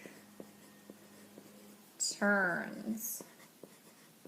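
A pen writes on a sheet of paper with soft, quiet scratching strokes, while a person speaks briefly in a low voice partway through.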